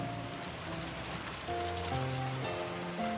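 Steady rain patters and hisses through a scene in the visual novel Umineko When They Cry, with a soft melodic tune playing over the downpour.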